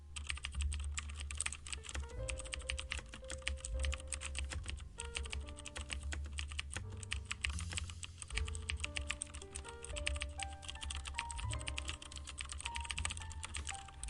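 Someone types code on a computer keyboard in a continuous clatter of rapid key presses, close and steady, with a low musical bed running underneath throughout.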